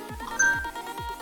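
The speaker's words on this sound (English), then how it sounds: "That's my phone going off." A mobile phone rings, a short electronic tone repeating in quick descending chirps, fairly faint and alone.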